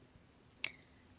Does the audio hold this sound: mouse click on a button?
yes